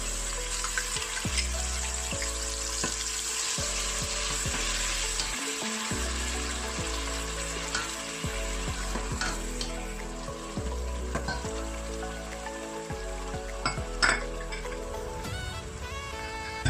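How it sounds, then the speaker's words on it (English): Tomatoes fry in hot oil in a pan for Nigerian yam porridge, giving a steady close sizzle with spitting crackle and occasional scraping or stirring, and no talk over it. "The frying of this tomato takes just 5 minutes."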